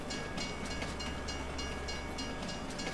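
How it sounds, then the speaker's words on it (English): A train rolls through a forest map in Farming Simulator 22, a steady dense rumble with rhythmic clickety-clack of wheels over rail joints, loud and continuous without pause. "Got a train that comes through."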